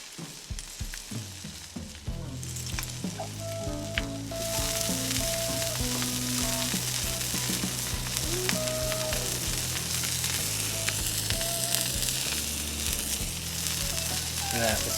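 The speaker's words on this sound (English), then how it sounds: "Take a little bit of this oil. Just want to toast these buns just a tad." Buns toasting in oil on a Blackstone griddle give a steady, close sizzle that swells louder partway through and then holds.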